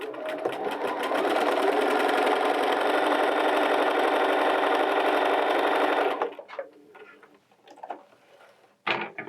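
Bernina 325/335 sewing machine stitching a zigzag line, a loud, steady rapid mechanical whir for about six seconds, then stopping into faint handling clicks and rustles.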